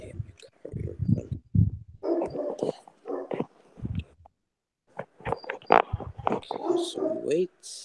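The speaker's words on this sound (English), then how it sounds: "So we wait, let the dog bark" A dog barks and whimpers in short yips mixed in with people talking nearby, the barks and the speech overlapping in uneven bursts.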